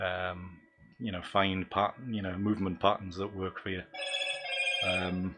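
A phone rings with a short bright electronic tone right after someone talks, then his speech resumes over it.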